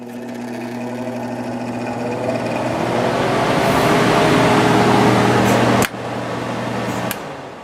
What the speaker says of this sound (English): just start the fan for now